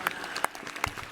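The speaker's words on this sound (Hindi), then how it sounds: "एक बार सब बच्चों के लिए भी ताली बजा दो फिर से।" An audience claps for the children of Patanjali Gurukulam at Patanjali Yogpeeth in Haridwar, a dense, steady burst of applause from a crowd filling the moment.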